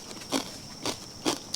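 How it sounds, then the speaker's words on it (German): Crunchy bites into crispy, slightly salty fried pork skin, three sharp crackling bursts spaced about half a second apart, close and fairly loud over a quiet background. "aber ich esse die ist so schön crispy, knackt, wenn man drauf beißt"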